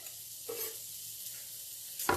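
Chopped, pre-prepped leftover vegetables hit a hot pan, giving a steady close sizzle with brief stirring scrapes and a short sharper clatter at the end.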